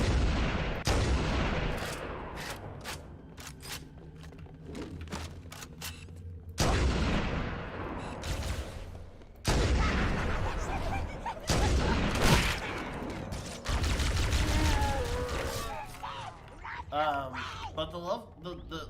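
Weapons firing in the Halo video game: repeated bursts of loud gunfire and booming blasts in several bunches, with sharp cuts between them and a voice talking over part of the action.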